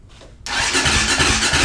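A KTM 525cc cross kart engine cranks and catches, a sudden jump from near-quiet into a loud, steady running roar with a pulsing low throb, up close.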